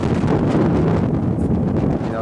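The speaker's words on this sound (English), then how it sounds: "that wind can take you over" Strong wind buffets the microphone at an open hilltop lookout in Israel, a loud, continuous roar with gusty rumble throughout and no break.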